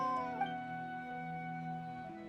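A cat character in a video game meows in a sustained, tonal, howling call that holds steady and shifts pitch slightly near the end, alone without talk.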